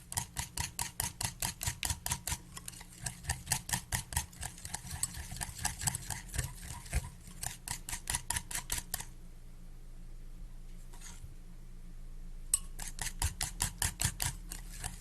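Cupcake batter with almond flavoring being beaten smooth in a bowl, rapid rhythmic mechanical ticking and whirring in quick bursts, pausing briefly before resuming near the end.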